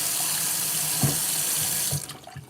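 Water runs steadily from a kitchen tap into a pot of grits for rinsing, a continuous rushing stream that cuts off near the end, leaving a few soft drips and clinks.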